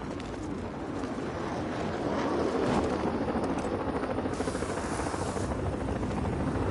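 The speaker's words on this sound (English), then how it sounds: "Choppers are taking flight as we speak," Helicopters lifting off in the video game Batman: Arkham Knight, a steady dense rotor and engine drone that swells slightly midway and holds loud and constant throughout, with no talk.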